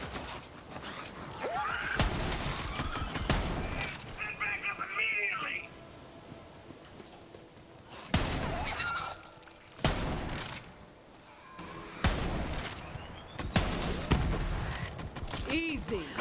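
Bursts of Borderlands 3 gunfire with a Cutsman weapon crack out in several loud clusters separated by quieter gaps, mixed with game effects and someone talking throughout.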